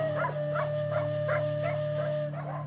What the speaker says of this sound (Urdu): جیسے ہی ماں عائشہ نے کتوں کے بھونکنے کی آواز سنی